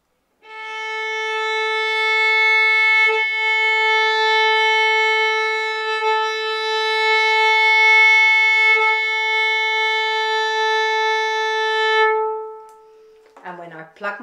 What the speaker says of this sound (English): Let me play you your A string.